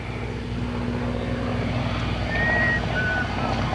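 At a 1993 airshow, a propeller airplane rolling in front of the crowd gives a steady, moderately distant engine drone that swells slightly midway, with faint whistling tones above it.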